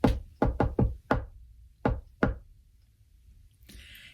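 A distinctive knuckle knock on a door is imitated by a person: three quick raps, a fourth, then a pause and two more spaced knocks, close and crisp in a quiet room.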